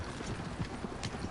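Horses' hooves clip-clopping in the Western video game Red Dead Online, a busy herd's steady patter of hoofbeats close by with no talk over it.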